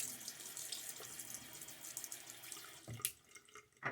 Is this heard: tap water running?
yes